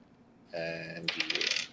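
Dice rattle and clatter across a surface during a tabletop role-playing game, a quick burst of small hard clicks following a brief tonal chime, close and fairly quiet.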